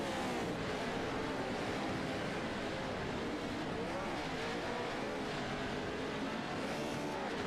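Race cars roll up to the start line for a Crandon Dash, engines rumbling and revving in a constant loud drone with tires working, several vehicles blended together at close range.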